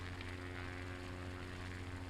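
Seaplane propeller engine droning steadily and loudly in Microsoft Flight Simulator while flying over Seattle, a constant hum with no voices.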